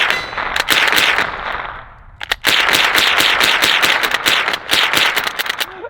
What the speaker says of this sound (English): I'm actually pretty sure that this little 22 right here can slam fire, it being a little pump action